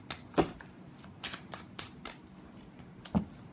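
Tarot cards shuffled by hand in a few sharp riffling bursts with soft slaps between them, close and fairly quiet, with no talking.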